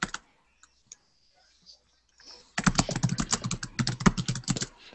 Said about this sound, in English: I see you typing that in